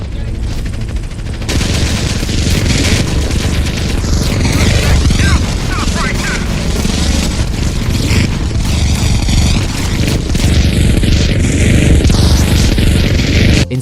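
Loud, dense gunfire and explosions from GTA San Andreas with an effects mod, with automatic bursts and booms piling into a chaotic, sustained barrage that stays near and intense throughout.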